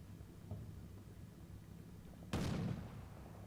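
Artillery fire in Combat Mission: Shock Force 2, a single distant boom landing partway through, a short broadband burst that fades over about a second above a low steady background rumble.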